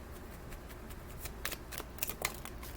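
Tarot cards being shuffled by hand, a continuous soft riffling flutter with a few sharper snaps and flicks toward the end as cards are drawn, close and fairly quiet.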